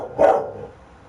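A dog being teased and provoked gives one short, sharp bark close by, which quickly fades into quiet room tone.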